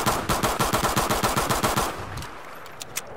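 A pistol fired as fast as it can be tapped in a video game cracks out about a dozen loud, evenly spaced shots in quick rhythm, then stops, leaving a low hum with a couple of faint clicks.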